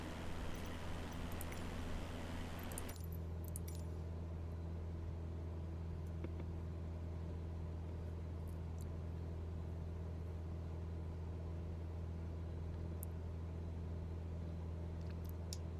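Steady droning engine of a Cessna 172 single-engine plane in Microsoft Flight Simulator 2020, a constant low hum running throughout, with a louder rushing burst at the start before settling into an even drone.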